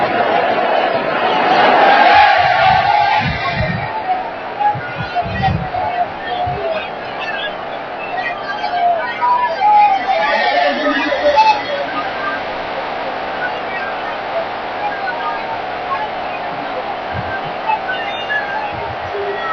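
A dense, roaring crowd of supporters surrounds a Delhi DTC bus carrying a public figure, with loud, continuous hubbub, shouting voices and chants blending into a steady outdoor din and occasional sharper cries.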